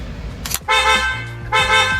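An upgraded, louder aftermarket horn on a Subaru Crosstrek, heard up close: a tiny tap, then two loud, blaring honks, the first long and the second shorter.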